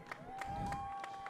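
Crowd cheering rises from the stands along the front stretch during a 400-meter dash at a wheelchair games track meet, a steady swelling roar with scattered claps, heard from a distance beneath a sustained tone.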